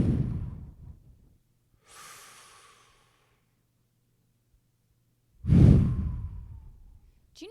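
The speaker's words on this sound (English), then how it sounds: "we breathe like this" Slow, deep breaths demonstrated in a calm, intimate moment: a long breathy exhale, a softer inhale, then a louder, close exhale, each separated by silence.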